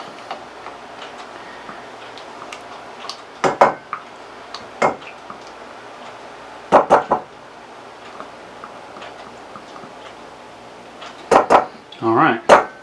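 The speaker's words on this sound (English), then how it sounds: "So we'll take our mustard, put it in a little pot here." Mustard is scraped from a container into a little pot with a utensil, giving sharp clinks and knocks in scattered clusters over a quiet background.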